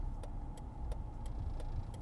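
Steady low road rumble inside a moving car, quiet and even, with faint soft ticks recurring at regular intervals and no talking.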